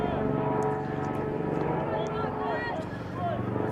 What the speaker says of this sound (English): it looks like that's a Dart helicopter, so hopefully whoever's in that is okay